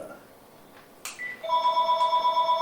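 After a short knock and a quiet pause, a nearby telephone starts ringing with a bright, sustained electronic tone on an incoming robocall, with no talking.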